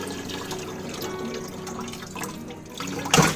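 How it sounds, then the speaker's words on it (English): Partly frozen broth, 96 ounces, is poured into a cooking pot, giving a soft steady liquid splash and trickle that ends in a brief louder slosh. "you're going to put the 96 ounces of broth in a pot."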